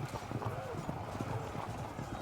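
Massed galloping hooves of horse archers charging in the video game Field of Glory 2, a dense rumbling clatter with an occasional whinny, heard under steady talk.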